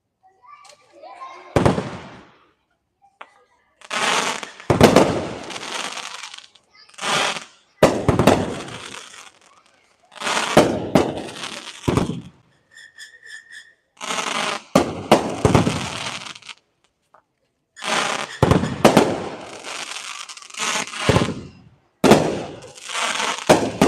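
Double Vision 20-shot firework cake from Great Grizzly at an Indiana demo night, loud bursts and crackling breaks firing in repeated volleys with short gaps, people talking between shots.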